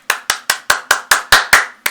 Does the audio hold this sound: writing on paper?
no